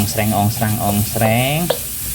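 A little hot cooking oil hisses in a pan as food is stir-fried, a steady close sizzle running under a humming, voice-like tone.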